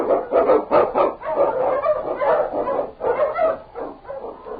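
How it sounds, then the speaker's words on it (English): An Eskimo lead dog, a swift and strong sled dog on a snowy Yukon trail, barks in a steady run of loud, close, overlapping barks and yips lasting several seconds with no speech. "The Wonder Dog King, swiftest and strongest of Eskimo lead dogs, blazes the trail through storm and snow for Sergeant Preston"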